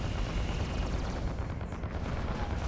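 Rapid weapons fire from spaceships in the space combat game Fractured Space, a dense unbroken barrage of booming shots with no speech.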